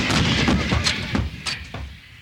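Artillery guns fire in a battle during the advance on Kuwait City in Desert Storm, giving several heavy booming blasts in quick succession that fade toward the end.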